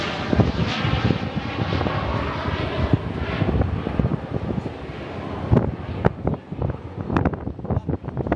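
A Super Hornet fighter jet at an air show, engines at idle for a low-speed inverted whisper pass, rumbles steadily with broad wind-like jet roar and buffeting, loud and sustained, with crackling gusts toward the end.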